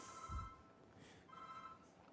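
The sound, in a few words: phone ringing in a lecture hall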